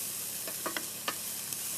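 Fresh garlic sizzles in a pan being readied for brick chicken, a soft steady hiss broken by a few light clicks and scrapes, fairly quiet and close, with no voices.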